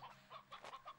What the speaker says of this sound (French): Il y a un vieux coq là.